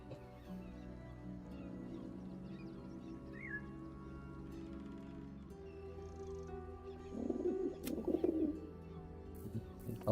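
Pigeons coo softly in a Baldur's Gate 3 game scene over a steady low ambient hum, with a louder burst of rustling activity near the end.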